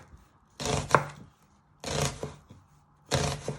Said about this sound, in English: you want to finally slice your onions into thin pieces